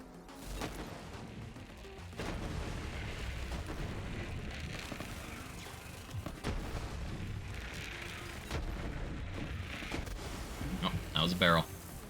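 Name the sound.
barrel exploding in a video game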